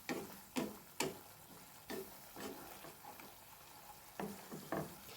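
Fish and potatoes fry in hot oil for a fish curry, a soft continuous sizzle broken by intermittent sharp clicks and stirring scrapes.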